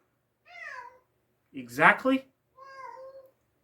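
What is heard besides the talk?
cat meowing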